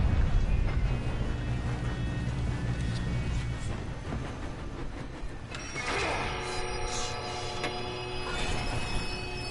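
A moving train in Red Dead Redemption 2 rumbles steadily with low, rolling wheel noise and rattling cars, brightening with metallic screeching and clatter in the later half, loud and continuous with no talk.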